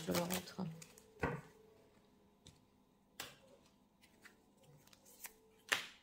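Tarot cards drawn and handled on a table, several crisp snapping flicks and soft shuffling slides scattered across the stretch, close and quiet, with a voice talking at times.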